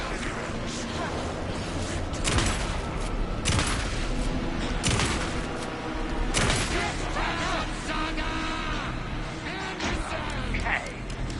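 Gunfire in the video game Alan Wake II, repeated loud sharp shots and bursts in an irregular rhythm, mixed with voices talking and shouting throughout.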